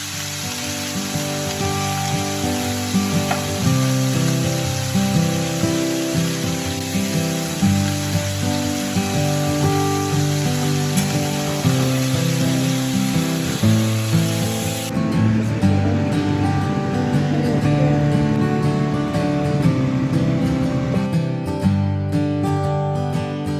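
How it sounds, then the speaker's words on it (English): Roast beef chunks searing in a pan before pressure canning, a loud, dense, crackling sizzle that runs unbroken throughout, close up with no speech. "I am searing my roast beef before I can it."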